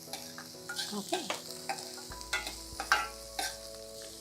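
Garlic and spring onions fry in a pan for veg Manchurian, giving a quiet, steady sizzle broken by repeated scraping and clinking strokes of a spoon as they are stirred.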